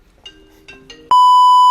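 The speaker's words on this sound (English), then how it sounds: "We got a phone ringing." A phone rings with a few soft electronic chirps, then jumps to a loud, sustained pure beeping tone that holds steadily, close and alone.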